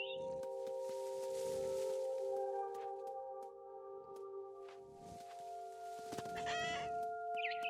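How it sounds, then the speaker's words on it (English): A bird in What Remains of Edith Finch gives repeated clucking, crowing calls in bursts over a steady tonal game hum, fairly close and clear, with no voices. "Can you stop flying away from me, bird?"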